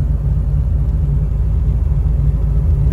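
Car engine droning steadily as the vehicle climbs the steep Kallar Kahar ascent in low gear, a loud, constant low rumble with road noise and no talking.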